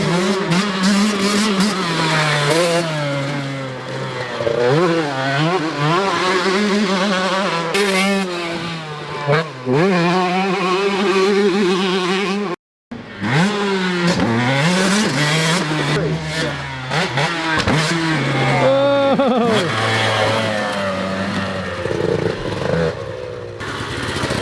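Two-stroke motocross bikes, a YZ125 and a TC125, scream and rev hard, the engine pitch climbing and dropping repeatedly through gear changes, loud and close, with one brief cut to near silence midway.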